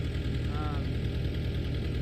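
John Deere tractor engine idling outdoors: a steady low mechanical rumble with a slight knocking pulse, close and constant, a voice briefly over it.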